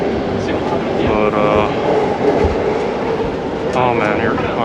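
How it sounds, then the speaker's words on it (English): Crowded commuter train in Japan heading to Shibuya, a steady rumbling ride with faint clickety-clack and hiss, with people talking over it throughout. "I'm gonna get on the train and head to Shibuya"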